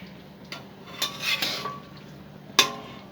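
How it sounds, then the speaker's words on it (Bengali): A metal spatula stirs masala chicken curry with leg pieces and chicken feet in a pot, giving sparse scrapes and light metallic clinks, with one sharp knock near the end, over a quiet background. "এই যে আমি একটু খুন্তি দিয়ে নাড়িয়ে দিই কেমন হচ্ছে আমার রান্না"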